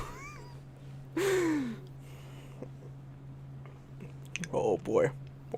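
A pet cat meows indoors: one clear, rising-falling meow, then a pause and a pair of quicker meows near the end, over a low steady hum.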